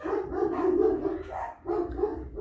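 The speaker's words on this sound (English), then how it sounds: "it seems to be a queue for my dogs to start barking" Pet dogs bark in a string of loud, rough woofs with a short pause midway, heard indoors and fairly close.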